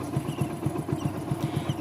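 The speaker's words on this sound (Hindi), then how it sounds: "आप लोग देखिए बाइक चला रहे हैं" A small motorcycle engine running steadily close by as a young child rides the bike, with a low, even throb throughout.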